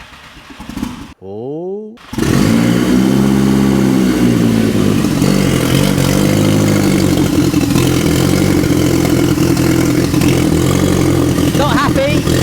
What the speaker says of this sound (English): Fingers crossed, first start, fuel pump primed.